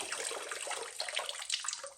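Water drains out of an antique tractor being tuned up, a steady close splashing rush with faint trickles and no talking.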